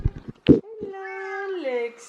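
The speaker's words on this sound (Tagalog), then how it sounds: "May pusa na nga pala kami." A pet cat named Lexus lets out a long, drawn-out meow that rises and falls, heard close and clear right after a few bumps and a brief human voice.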